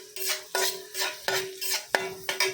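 Onions and green chilies stirred in a pan with a utensil, giving repeated scraping strokes against the metal at a steady rhythm, close and clear with no talking.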